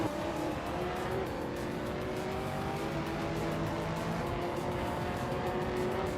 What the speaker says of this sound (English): Amy is leading the race in a 23 seat Cupra GT